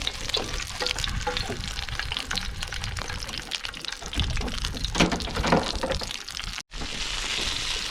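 Meat sizzles and crackles steadily in a pan over a camp stove while boat camping from a small tinny, a dense continuous fry close by that briefly cuts out near the end.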